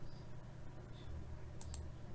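Computer mouse clicking in a quiet indoor room, two to three short sharp clicks close together near the end, set against a low steady background hum, with no one talking.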